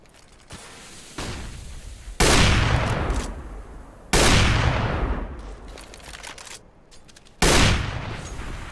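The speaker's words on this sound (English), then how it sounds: "Blind fire coming in from Olofmeister with that AWP at A-Long Hut" AWP sniper rifle shots in a Counter-Strike match at IEM Katowice, fired at A-Long, heard as several loud, sharp cracks with long echoing tails, spaced irregularly with quieter mechanical clatter between them.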